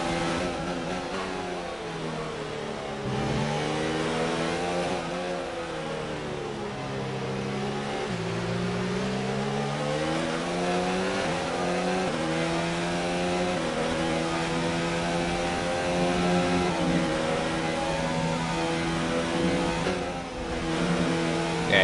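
An F1 car in F1 2019 screams at high revs, then lifts off the throttle and blips through rapid downshifts. The engine note dips and climbs again in a loud, continuous run.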